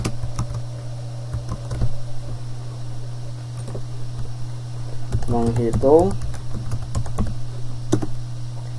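Brief bursts of typing on a computer keyboard in a classroom setting, a few scattered clicks and then a quick cluster of keystrokes, over a steady low hum, with a voice speaking.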